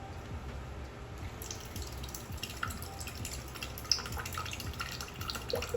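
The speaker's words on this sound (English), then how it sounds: "it will pump the water out from the 5-gallon jug to make sure you get fresh water" Water pumped out of a 5-gallon jug through a small dispenser, a soft continuous trickle and dripping with a faint hum, a few small splashes standing out, heard up close and alone.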